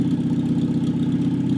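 A series Land Rover engine, a simple motor produced for 40 years, runs at a steady idle, with a close, even, low throbbing chug and no voices.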